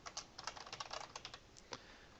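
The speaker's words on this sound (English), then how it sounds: "I can't think and type at the same time" Rapid, uneven typing on a computer keyboard, with a burst of close key clicks at a steady clatter followed by a few slower, separate taps. No voices are heard.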